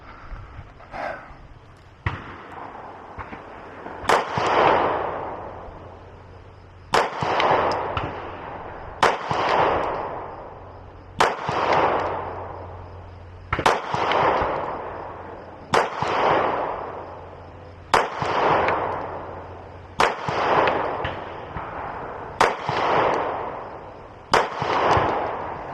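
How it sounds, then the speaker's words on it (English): Ten loud, sharp gunshots from a Beretta PX4 9mm pistol, fired one at a time at a slow, fairly steady pace. Each crack is close and echoes briefly, with no talking between shots. "we're going to shoot the PX4, see how we do"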